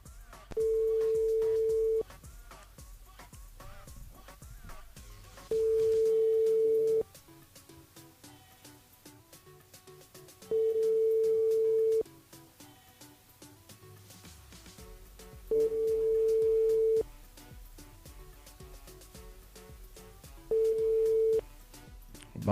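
A telephone ringback tone repeats five times at steady intervals on an unanswered call, each ring a long steady tone separated by pauses, with faint background music underneath.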